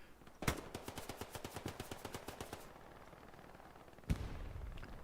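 Rapid burst of submachine gun fire from an M3 grease gun in the World War II shooter Hell Let Loose, a string of sharp evenly spaced shots lasting about two seconds, followed later by a single loud blast.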